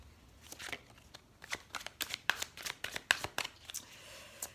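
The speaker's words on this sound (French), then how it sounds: "on va prendre quelques cartes du tarot de la magie verte" Tarot cards from a green magic deck being shuffled and handled, a run of crisp papery flicks and slaps in irregular bursts, close and fairly quiet, with no voice over them.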